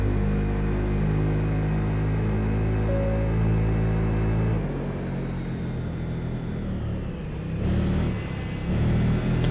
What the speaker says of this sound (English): On the Yamaha T-Max Racing Modify, we get ourselves moving